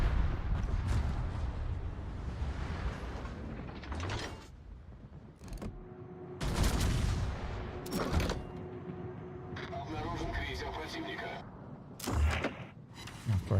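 Naval battle video game combat with sharp cannon-like blasts and mechanical clanks and creaks breaking through a dense rumbling din at middling distance.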